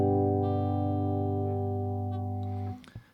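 Acoustic guitar strumming a full open chord, played alone and ringing close and loud with sustained harmonics before being damped, followed by a brief fret or hand noise.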